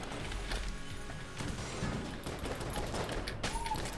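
Rapid bursts of video-game gunfire from Enter the Gungeon, a fusillade of dense, overlapping shots firing nearly continuously at close range, loud, with crashing impacts mixed in.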